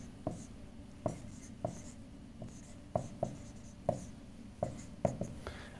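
Chalk or marker writing on a lecture hall board during a physics lecture on electromagnetic waves makes regular sharp taps and short strokes, about a dozen over several seconds, with no talking.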